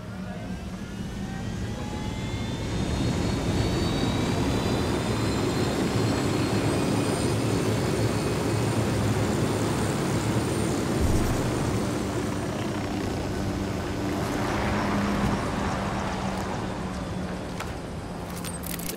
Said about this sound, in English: The drone is up.